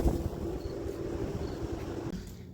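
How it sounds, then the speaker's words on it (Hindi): Wind gusting steadily outdoors, a constant low roar buffeting the microphone with no voices. "बहुत मस्त हवा चल रही है"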